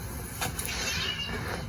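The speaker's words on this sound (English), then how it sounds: "Penny, hi Penny. It's a good kitty." Penny, a pet cat in a home game room, gives a couple of short meows close by over a low, steady room hum.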